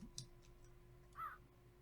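A single crow gives one short, faint caw in a Minecraft Feed the Beast Infinity Evolved world, heard alone over a low steady hum with a few soft ticks.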